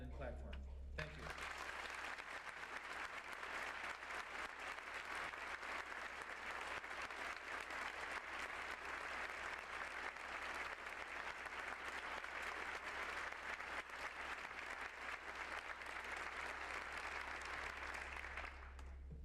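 A lecture audience at Kansas State University's Landon Lecture applauds to welcome General Colin Powell, a dense, steady wash of clapping from a large crowd that holds for nearly twenty seconds before tapering off.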